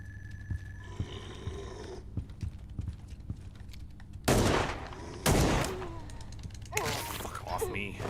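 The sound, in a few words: gunfire from a retro horror video game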